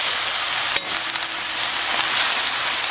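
Spinach sauteing in a hot pan, a steady bright sizzle and crackle with a couple of sharp knocks of a utensil against the pan, close and fairly loud, with no talking.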